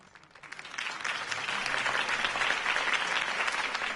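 Loud applause from a crowd after a mayoral campaign speech in an animated city, swelling from a few claps into sustained, dense clapping that fills the whole stretch.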